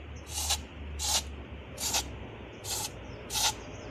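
A handheld sprayer mists pesticide onto miana plants in five short, evenly spaced hissing bursts, each about a third of a second long, close and clear over a low background hum.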